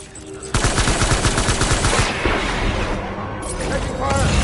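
Rapid automatic gunfire rattles loudly and close in a video game, a sustained burst of evenly spaced shots lasting several seconds with heavy booms around it.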